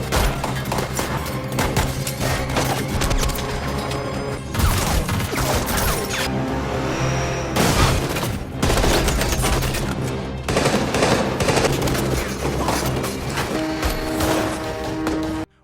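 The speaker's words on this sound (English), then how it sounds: "both agencies meet in the middle of the street for a vicious gunfight" A vicious street gunfight in a film: loud, dense bursts of overlapping gunfire and automatic weapon fire ring out almost without pause, mixed with heavy crashes and thuds.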